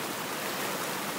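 A river rushes past rocks fallen from a landslide on a tall cliff in a Sumatran forest. A steady, dense roar of flowing water fills the whole moment without a break.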